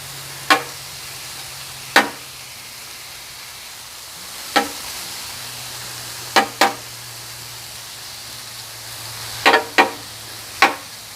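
Metal spatula chopping steak meat on a hot griddle for Philly cheesesteak, sharp clacking strikes in irregular ones and pairs over a steady low sizzle, no talking.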